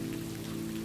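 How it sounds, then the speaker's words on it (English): Gentle night rain patters steadily on surfaces in Vienna, a soft continuous hiss with a low hum beneath it, no voices present. "The rain remains her steady companion, a gentle patter reminding her that all is well."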